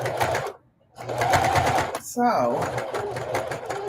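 A sewing machine stitches denim appliqué across a thick seam for a quilt, running in rapid bursts with a brief pause and straining slightly, while a person talks over it.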